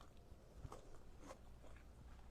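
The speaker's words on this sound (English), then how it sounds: "Never mind my chewing" Someone chews a mouthful of baba ganoush close to the mic, giving faint, soft crunches and irregular bites over low room noise.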